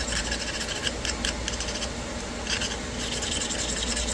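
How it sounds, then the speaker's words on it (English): A diamond file grinding the bottom side of a Georgia jasper stone: steady, close rasping and rubbing strokes, continuous and fairly loud, with a gritty repeating texture. "Alright, so now I'm going to grind this bottom side."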